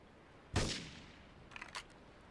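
Gunfire in GTA III: one sharp, loud shot rings out, then a few quieter, quick pops follow a second later, with no talking.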